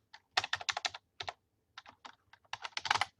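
Fast, close typing on a computer keyboard while entering a name in caps lock, crisp clicky keystrokes in quick bursts separated by short pauses.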